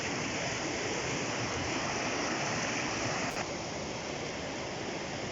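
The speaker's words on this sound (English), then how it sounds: "So I'm right here, right at the river's edge" A river at Afton Dam in Scotland rushes steadily at the water's edge among trees, a dense, continuous broadband roar of flowing water, close and constant throughout with no voices.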